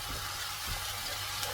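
Masala sizzles steadily in hot oil in a pan while paneer gravy is being cooked, a continuous, close-up frying hiss with faint stirring.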